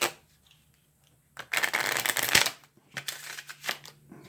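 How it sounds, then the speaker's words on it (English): A stiff, hard plastic Maverick playing card deck being riffle shuffled, a loud close burst of rapid flicking that ends in a snap, followed by a few softer bridging taps and clacks, with no talking. "This is a very stiff riffle."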